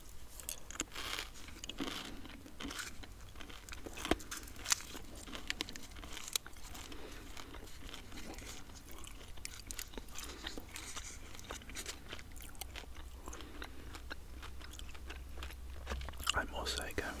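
Close, quiet chewing of a piece of white PK chewing gum, with soft wet mouth clicks and smacks repeating steadily under gentle whispering.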